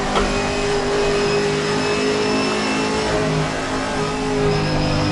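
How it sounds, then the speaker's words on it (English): A Chevrolet race car in the racing game Assetto Corsa Competizione drives through the opening section of a circuit, its engine droning loud and steady with rising and falling revs and no voices. "Very bouncy car, the Chevrolet, as it comes up through the first section of the circuit now."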